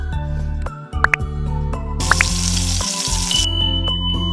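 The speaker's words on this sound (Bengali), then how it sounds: "এবার আমি গরম তেলে এটাকে ফ্রাই করে নেব। একটা একটা করে ছাড়বো।" Coated potato fingers dropped one at a time into hot oil, frying with a loud, continuous close sizzle, a brief hiss-burst as a piece goes in and a few small pops.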